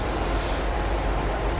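A commuter train in Australia rumbles steadily with a dense, continuous broadband roar of wheels and carriage noise, heard from on board at close range without a break.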